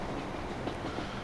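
An older train entering service in the game Transport Fever gives a steady rolling rail rumble with faint clickety-clack, continuous and fairly loud, with no voices.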